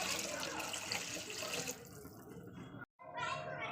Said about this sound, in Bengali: দিয়ে দিলাম 1 কাপ পরিমাণ জল।